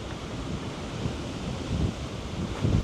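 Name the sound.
ocean waves on the west coast of Tahiti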